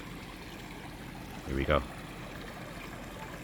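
A small garden stream flows with a faint, steady rush of water. A voice speaks one short phrase over it midway through.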